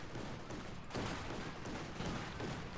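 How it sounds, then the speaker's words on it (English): Dense, continuous gunfire from PTRS anti-tank rifles shooting at a Panzer II in Company of Heroes 2, a sustained rumbling fusillade at moderate level with no clear gaps. "PTRS rifles here, trying to put some damage into Panzer II"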